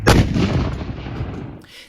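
A cannon fires after gunpowder ignites in its breech: a single loud, close blast followed by a rumbling decay that fades over about a second and a half.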